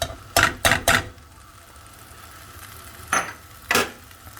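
Utensils clatter in a pan as tempering is added to long beans for a curry, with three quick close knocks in succession, a pause of low hum, then two more separated scrapes and taps.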